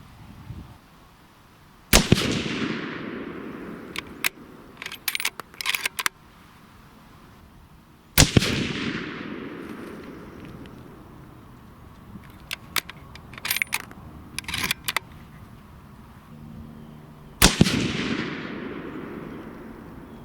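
Three loud rifle shots from a Savage 111 in .270 Winchester firing Barnes 130-grain TSX handloads with Hybrid 100V powder at a shooting range, each a sharp blast with a long ringing decay, spaced several seconds apart, with clattering handling noises between.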